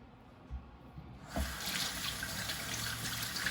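Tap water gushing into a sink as two strawberries are washed under it, starting abruptly after a quiet moment, then a steady close splash.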